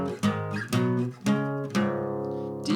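The bottom three strings of a guitar tuned to open D flat ring out as separate plucked notes and strummed together, each bright tone sustaining and decaying, close and clear with no talk.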